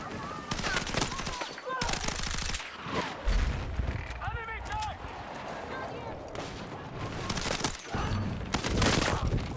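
Rapid gunfire bursts in the video game Battlefield 6, sharp automatic shots and scattered blasts packed densely throughout, loud and close, with a voice talking over parts of the clip.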